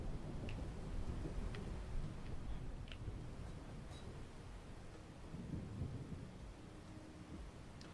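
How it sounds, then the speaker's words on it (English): Rain falling steadily in a thunderstorm within modded Minecraft, a constant wash of downpour with low rumbling thunder swelling underneath; fairly quiet and even, no voices. "This is just a squall line, which is a long line of thunderstorms"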